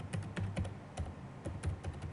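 Quick, close computer keyboard typing as a ticket type name is entered in a helpdesk admin panel, a run of light, even clicks with short pauses and no talking.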